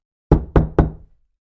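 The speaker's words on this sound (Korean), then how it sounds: "갑자기 누군가 문을 두드리는" Three firm knocks on a wooden door, close and evenly spaced, each with a short hollow ring, heard alone in silence.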